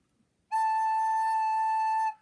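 One sustained A note from a recorder played by a guitarist, steady and breathy-pure, starting cleanly after a short silence and holding for roughly a second and a half.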